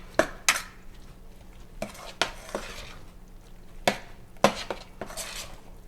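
A chopped spinach mixture is stirred in a pot, with a spoon scraping and clinking against the metal in irregular strokes several times, close and fairly quiet over a faint low background hum.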